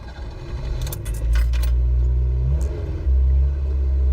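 A Yugo starting up on a cold day, keys jangling in the ignition before the engine catches into a steady low rumble that steps up in loudness, close and idling smoothly without talk.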